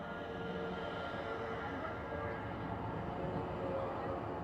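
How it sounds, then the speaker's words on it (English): A loud train rumbles past close by during an outdoor police press briefing, a steady continuous roar with rail clatter filling the whole stretch, and a voice partly masked beneath it. "the train is kind of loud back there"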